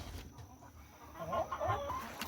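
Chickens clucking as they come out of their coop hatch, a few soft murmuring clucks rising toward the end over faint background noise.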